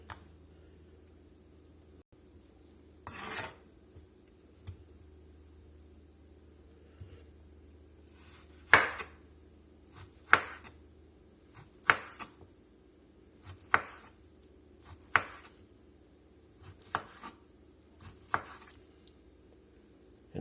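Knife chopping through steak on a cutting board for fajitas, a run of crisp separate cuts spaced irregularly, some louder strikes, close up with no talk.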